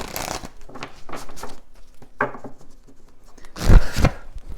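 A deck of cards is shuffled by hand in a few short riffling bursts with pauses between them, close and fairly loud, and nobody talks.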